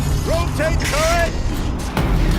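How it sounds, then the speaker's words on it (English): Tank turret rotating in the video game Horizon Zero Dawn, a mechanical whirring and ratcheting grind that runs loud for about two seconds, with a low boom and a voice speaking over it. "Rotate turret!"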